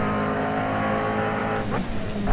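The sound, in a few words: McLaren GT3 race car sliding at Silverstone in a racing sim game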